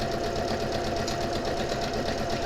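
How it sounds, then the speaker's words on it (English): Sewing machine running steadily while stitching jelly roll fabric strips together for a tote bag, a continuous close mechanical whir with a fast even rhythm and no talking. "I am sewing jelly roll strips together"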